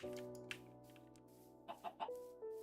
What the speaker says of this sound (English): Chicken.